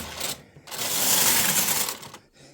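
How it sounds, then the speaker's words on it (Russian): A lace carriage on a knitting machine slides across the needle bed in one sustained whirring, clicking pass, with brief mechanical rattles before and after and no voices. "Далее опять работаем ажурной кареткой."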